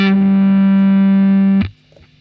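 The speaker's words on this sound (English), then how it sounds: "here is the 5th fret on the 4th string with the distortion," A single sustained distorted electric guitar note at the 5th fret of the 4th string with the other strings left open, held loud and steady with ringing overtones before being abruptly cut off, followed by faint handling noise.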